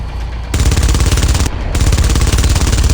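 Sustained automatic gunfire from a drone's weapons in the stealth game Splinter Cell Blacklist, set in Tehran, Iran: loud, dense rapid bursts that start abruptly, pause briefly, then resume and continue steadily.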